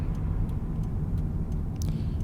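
Car interior on a quiet rural road in eastern Connecticut during a turnaround, with a steady low engine and road rumble and a few faint ticks, no talk.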